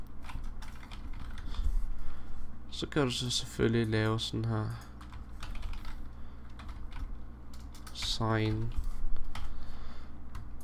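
Computer keyboard typing, a rapid run of light, close key clicks, continues under someone speaking Danish.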